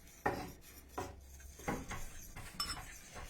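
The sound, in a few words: stirring protein brownie batter in a bowl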